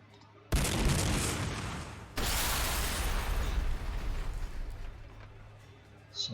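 Gunfire and explosions in the video game Warhammer 40,000: Sanctus Reach, Space Wolves campaign: two sudden loud blasts trailing into rumbling fire and debris, then fading, with a sharp pop at the end.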